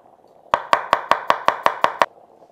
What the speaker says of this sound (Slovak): Cesnak musíme rýchlo očistiť a nakrájame na plátky.